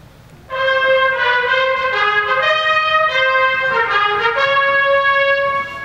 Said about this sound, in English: E-flat cornets are the smallest instruments in the band and add this sound.